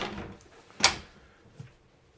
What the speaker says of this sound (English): Even if I were to close this pocket door